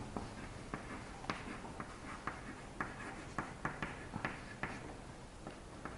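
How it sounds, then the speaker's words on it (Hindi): Pen or chalk writing by hand during a maths lesson on cylinder surface area, a faint series of irregular scratchy taps and strokes, close and quiet, with no talk. "तो मैं यहाँ पर अलग से लिख देता हूँ इसको"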